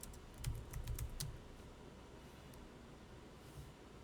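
Quiet clatter of fingers typing on a computer keyboard in a classroom during a computerized accounting lesson, a quick burst of a handful of keystrokes, then a lull with one faint tap later.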